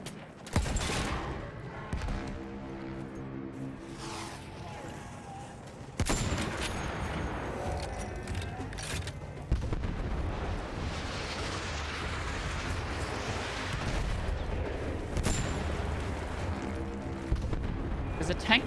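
Rifle shots and battle noise from a World War video game: several sharp, loud cracks ring out over a dense, continuous wash of distant gunfire and explosions, with someone talking over part of it.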